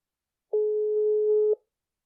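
A single steady electronic telephone tone sounds while a podcast host dials a guest, lasting about a second, clean and alone against silence.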